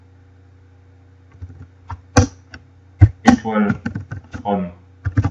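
Keystrokes on a computer keyboard tap out a database query as scattered, sharp clicks. Someone speaks over the typing against a steady low mains hum.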